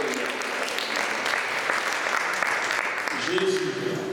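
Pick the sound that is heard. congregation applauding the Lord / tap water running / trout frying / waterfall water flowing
congregation applauding the Lord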